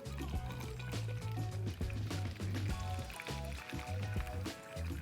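Tap water is dumped through a column of soil in a demonstration, a full gushing pour that sloshes and gurgles continuously for several seconds, close and fairly loud, with no voices.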